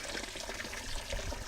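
Water flows steadily at an open spring fountain, a continuous close trickle and splash of running water with no voices.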